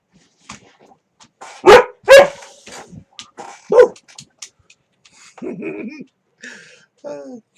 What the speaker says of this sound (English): first I wrestle with this old silly dog